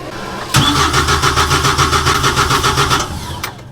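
A truck's engine cranks over in rapid, even pulses for about two and a half seconds before catching, loud and close, in a snowy, icy setting.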